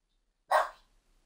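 A single sharp dog bark rings out close by, loud and brief, followed by quiet; the dog is named Ralph and is barking in reply to another dog.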